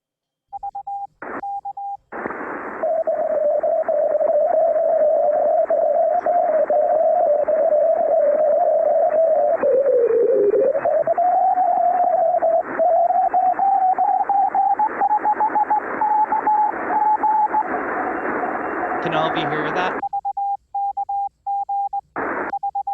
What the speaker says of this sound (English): here's a recording I made from their ham radio station, KC4USV, back when I was there